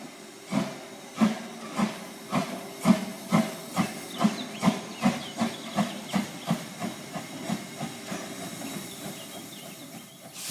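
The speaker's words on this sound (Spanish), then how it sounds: "Viajar en un tren de vapor montado en uno de aquellos viejos vagones" An old steam locomotive chuffs in a steady rhythm, each puff a loud burst of hissing steam, about two per second. The chuffing stays close and fades slightly toward the end.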